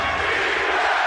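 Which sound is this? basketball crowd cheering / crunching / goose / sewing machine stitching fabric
basketball crowd cheering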